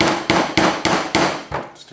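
A Leatherman MUT used as a flathead hammer drives a nail on a plastic table, giving six sharp, evenly spaced metallic strikes in quick rhythm, close and loud, the last blow softer.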